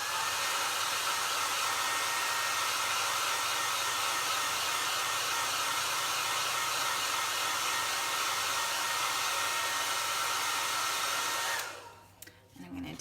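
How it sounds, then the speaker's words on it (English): A hair dryer roars loud and steady at close range, blowing dry wet paste on a chalkboard, a constant whooshing blast that cuts off abruptly near the end. "And then I'll blow dry it really quick so that I can continue on with the layering."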